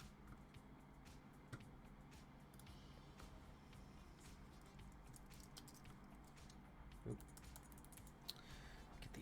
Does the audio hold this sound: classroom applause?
no